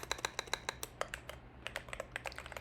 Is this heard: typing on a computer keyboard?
yes